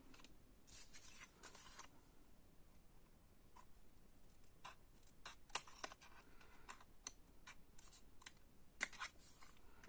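Paper is trimmed by about a millimetre for a scrapbook pop-up carousel card, giving faint, quiet snips and small ticking clicks at an irregular pace, close by with no talk.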